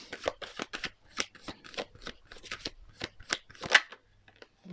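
A deck of cards being shuffled during a tarot-style reading, a rapid series of crisp riffling and flapping bursts close by, steady and unaccompanied by speech.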